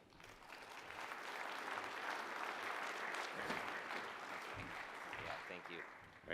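Sustained applause from a conference audience welcoming a keynote speaker, National Security Assistant Attorney General Matt Olsen, a dense steady clatter of clapping lasting several seconds before tapering slightly at the end.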